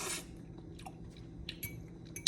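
Crispy coconut shrimp crunched and chewed up close and quietly, a few sharp crisp bites followed by soft wet chewing, with no talk.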